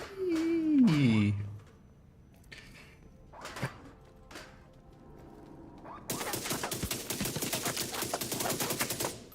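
Rapid automatic gunfire in the shooter game The Division, a dense, loud burst of shots rattling continuously through the last few seconds after quieter game sounds and a sliding tonal effect.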